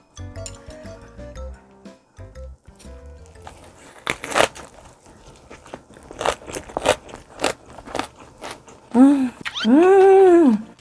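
Crunchy bites and chewing of a salted napa cabbage wrap filled with radish kimchi, kimchi and garlic ssamjang, close and loud, with irregular sharp crunches, clinks, and a brief voiced hum near the end.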